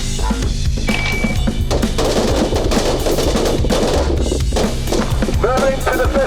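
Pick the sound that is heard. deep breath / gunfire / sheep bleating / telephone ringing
gunfire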